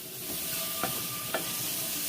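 Shrimp tossed in olive oil in a pan make a steady soft sizzle with two brief stirring scrapes, close and alone.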